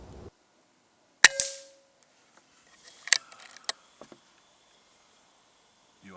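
Daystate Pulsar airgun shots striking a Reflex spinning wheel target: a loud sharp crack with metallic ring, then a pause before a cluster of clanging impacts and rattles, with quiet gaps between.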